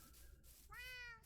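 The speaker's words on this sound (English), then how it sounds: "Where'd the Siamese kitty go?" A Siamese cat in Minecraft gives a single short, rising meow near the end, quiet and alone against a faint low background hum.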